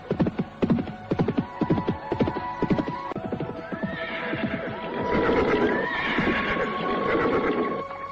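Horse sound effects in an Indonesian radio drama, a ridden horse arriving at Gua Growong: rhythmic clip-clop hoofbeats, then two whinnies over a steady low hum.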